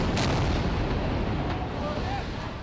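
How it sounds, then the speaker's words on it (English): Israeli airstrike explosions over the Gaza Strip roll together into a dense, heavy rumble of booms, with a sharper blast near the start, fading slightly toward the end. "The Gaza Strip battered by Israeli airstrikes"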